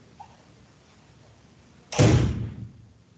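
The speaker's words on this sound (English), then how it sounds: "Close the door." A door swings shut with a single solid slam and a brief rattling decay, close and loud after a quiet room.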